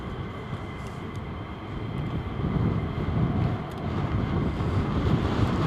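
Fighter jet with two Pratt & Whitney F100 afterburning turbofans at RAF Lakenheath, a broad, steady roar that swells louder midway and stays sustained with wind buffeting, no voices.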